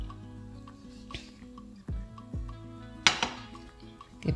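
A frying pan is set on a kitchen stove, giving a few sharp metallic clanks and knocks at close range, spaced irregularly over a quiet background hum.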